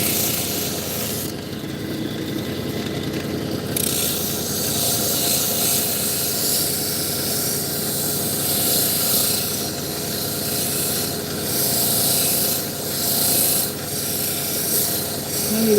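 A polishing wheel sands Torito wood at 3000 grit, producing a loud, continuous rubbing rasp over a steady motor whir that lasts throughout, with slight changes in pressure and no talking.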